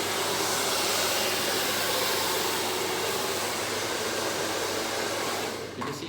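A hair dryer on the cool setting blow-drying hair, a steady, loud broadband whoosh that runs continuously and dips slightly near the end.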